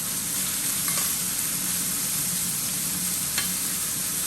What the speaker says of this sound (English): once the pork hits that hot pan, you just want to flatten it out